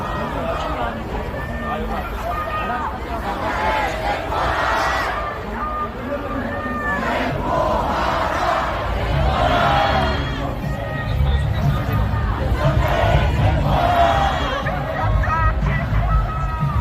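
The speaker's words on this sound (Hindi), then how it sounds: "भीड़ यहां पर आंदोलन कर रही है, प्रोटेस्ट कर रही है" A large crowd of protesters at a martial law protest in South Korea shouts and cheers continuously, with loud overlapping voices and chanting swelling throughout.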